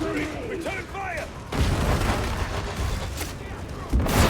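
Gunfire in Warhammer 40,000: Darktide, dense bursts of shots and booms filling the scene, with a voice calling out over the early part before the firing swells louder from the middle on.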